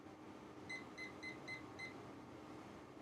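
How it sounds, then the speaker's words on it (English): A kitchen-style timer gives five short, evenly spaced electronic beeps as it is set, fairly quiet over a steady room hum with no talking. "Let me set a timer."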